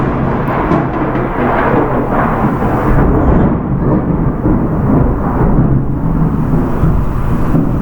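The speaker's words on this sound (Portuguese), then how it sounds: "não sei se vocês ouviram o trovão, mas eu parei por causa do trovão" Deep, continuous rumbling thunder with no clear peaks, heard during a lesson on regional human food, filling the whole stretch at a steady, fairly loud level with no voices.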